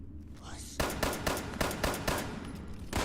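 Gunshots ring out in Fallout 76, loud and close: a rapid run of roughly eight cracks in quick uneven succession over background game sound.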